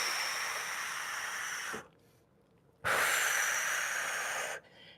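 A person exhales during a side-split and hip mobility stretching class, two long hissing breaths close to the microphone, each lasting about two seconds, separated by a short quiet pause.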